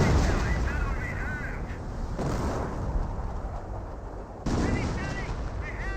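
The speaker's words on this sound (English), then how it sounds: "And now the Panther is seeing some artillery fire." Artillery fire strikes a Panther tank in Company of Heroes, a dense continuous din of booming impacts and crackling gunfire with a sharp new burst near the end, heard under a speaking voice.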